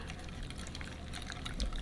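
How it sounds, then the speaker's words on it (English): Soda water poured a little at a time into tempura-style batter for Thai spicy basil fish makes a soft, faint trickle and light splashing, close by and brief, with no talking. "for the soda water, I'm just going to add a little bit at a time"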